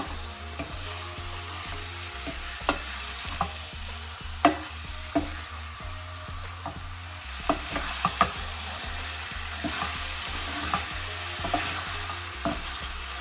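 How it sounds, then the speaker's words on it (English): Mutton pieces stirred and browning in a pan over high flame: a steady close sizzle with repeated scraping and clattering stir strokes throughout, no talk. "This is done on high flame because we want to braise the mutton pieces"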